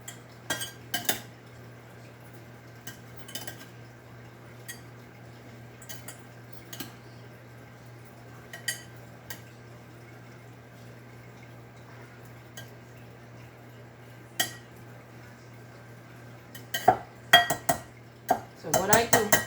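Curry chicken gizzard ingredients being mixed in a bowl, with scattered clinks and scrapes of utensils over a quiet steady hum, growing busier and more rapid near the end.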